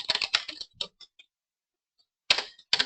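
Quick bursts of typing on a computer keyboard, clattering keystrokes in clusters, a long pause, then more keystrokes, close and moderately quiet.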